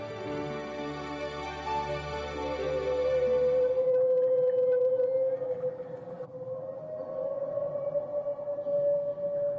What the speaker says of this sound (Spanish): Estos extraños sonidos también los emiten las ballenas jorobadas